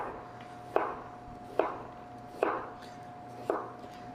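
Knife chops down through an onion on a cutting board in four evenly spaced, crisp thuds about a second apart, close and fairly quiet over a faint steady hum.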